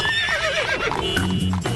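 A horse whinnies and its hooves clip-clop as it pulls a buggy, a loud close neigh followed by a few rhythmic hoof strikes, staged as a radio advert effect.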